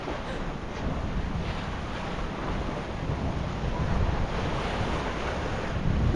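Steady wind buffets the microphone on the deck of a sailboat cruising Alaska's Aleutian Islands, with a constant low rumble of ocean waves and surf washing alongside, close and unbroken.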